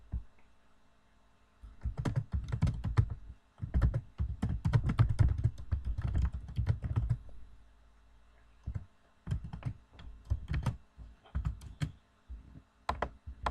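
Keys clatter on a computer keyboard while a Java JUnit test is typed, in dense bursts of rapid clicks separated by short pauses, close and clear, with no talking.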